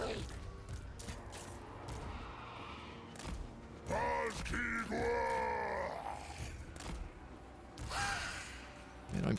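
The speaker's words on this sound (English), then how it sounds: "Man, I'm full of yawns today." A long, drawn-out yawn with a groaning, rising-and-falling voice, close to the microphone, set against quiet game sounds from Total War: Warhammer III.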